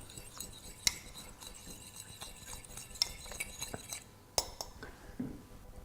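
Utensil mixing ingredients for a compote, with light scattered clinks and scrapes against the container, quiet and close, with faint voices in the background.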